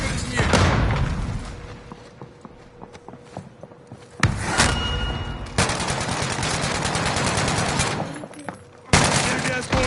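Warzone video game gunfire rattles in loud, sustained automatic bursts, with sharp shots and booms between stretches of quieter rattle, close and dense throughout.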